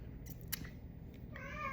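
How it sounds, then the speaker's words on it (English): A pet cat gives a faint, short meow in the background of a quiet room, near the end of a low, steady hum. "just ignore my cat in the background, he's crying"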